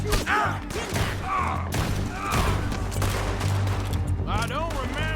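Bursts of gunfire in Red Dead Redemption 2 crack out repeatedly amid an outdoor firefight, loud and close, mixed with thuds and game ambience while voices talk over the shots.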